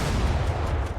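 Rapid 25mm cannon fire in the War Thunder naval battle game, a dense rolling burst of booming shots, loud and continuous for about a second.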